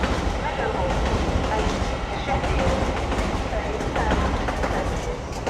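An LNER Class 801 train, units 801-104 and 801-106, runs through Doncaster station on the East Coast Main Line, giving a loud, steady rumbling roar with faint rhythmic wheel clatter, close by and continuous.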